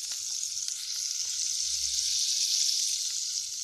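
Half a spoon of butter sizzling in about three tablespoons of hot white oil in a pan, a steady, close, bright frying hiss that holds evenly throughout with no voices.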